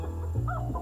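A chicken gives a brief, close cluck, one short throaty call that rises and falls.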